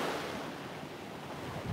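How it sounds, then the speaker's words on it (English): Ocean waves washing onto the shore seen from a scenic lookout, a soft continuous roar of surf with some wind buffeting the microphone, faint and with no voices. "the sounds of the waves"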